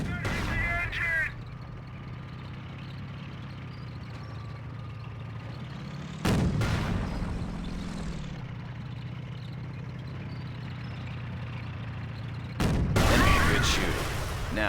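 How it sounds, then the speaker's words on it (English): Three heavy booming blasts, one near the start, one around the middle and one near the end, from a Panzer tank gun in the video game Company of Heroes. A low engine rumble runs between the blasts. "That shot from the Panzer scored a critical hit and has immobilized your tank"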